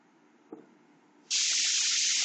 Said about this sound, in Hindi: थोड़ा सा बगल वाला रूम में खाना बन रहा है ना